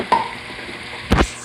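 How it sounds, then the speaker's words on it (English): Potatoes tossed into a hot pan of browned sausage for a sausage, potato and kale soup: two short sizzling bursts as pieces hit the fat, the second louder and longer, with a faint frying hiss between. "Okay, so now that this is browned, I'm going to toss these potatoes in here."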